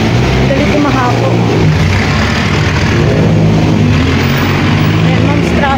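Steady street traffic in Baguio on a Sunday, with a continuous rumble of car and truck engines close by, revving now and then, and no break in the flow for the whole stretch.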